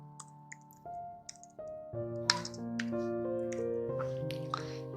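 Keys clatter in short irregular bursts as a name is typed on a computer keyboard, light clicks over a layered background music bed, no talk.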